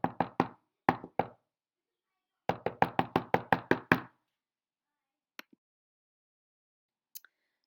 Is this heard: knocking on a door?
yes